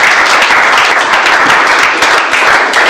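Congregation applauding and cheering in a church service, a dense, steady wash of loud clapping that fills the whole stretch without letting up.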